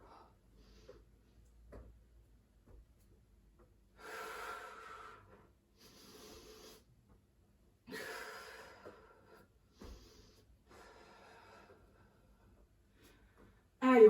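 Forceful exhales and drawn-in breaths accompany a bodyweight abdominal workout. They come in slow, regular bursts a couple of seconds apart, close to the listener and otherwise quiet.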